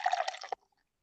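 Ship Bottom brewery's Ecto Cooler IPA is poured quickly into a glass, a half-second splashing gush ending in a sharp final splash, then near silence.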